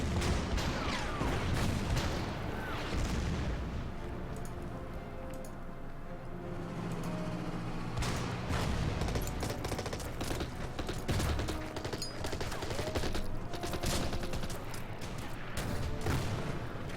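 Battle gunfire from the strategy game Order of Battle, with dense bursts of shots and booming artillery-like blasts rolling on continuously and fairly loud, with no talking.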